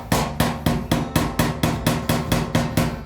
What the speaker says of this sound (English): You can take an old chisel, put it on the edge of that, and kind of go square on just to create a dent.